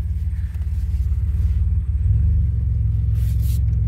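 A 2007 Pontiac Grand Prix GT engine fitted with an S1X cam idles close by with a loud, lumpy, pulsing rumble, its beat steady and deep, while a brief higher whine rises near the end.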